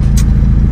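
A Toyota Innova automatic from a racing team running on a test drive, a brief, loud low engine hum close by with a short hiss laid over it.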